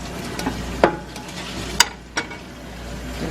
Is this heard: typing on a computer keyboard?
no